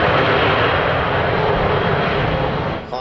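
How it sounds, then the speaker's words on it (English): The jet engines of an Avro Vulcan bomber roar at high power, a loud, steady, broadband rumble close by that holds constant before easing slightly at the end. "The engines are brought up to power."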